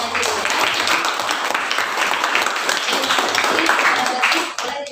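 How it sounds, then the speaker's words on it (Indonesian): Steady, dense applause for a presenting student group fills a classroom, continuous clapping at full strength for several seconds before tapering at the end. "kita beri aplaus yang meriah untuk kelompok penyaji"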